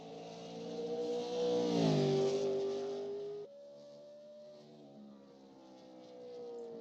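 Chevy race car engine screaming around Lucas Oil Raceway in an iRacing sim race, a loud sustained whine that rises, dips as it passes, then settles into a steady drone.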